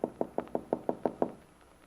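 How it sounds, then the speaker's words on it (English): Light tapping on a kitchen door: eight quick, evenly spaced knocks, close and crisp, then quiet. "Bill taps lightly on the kitchen door"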